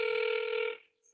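A telephone ringback tone on an unanswered call to a lawyer, one steady electronic ring sounding clearly for under a second before fading out, with no voices.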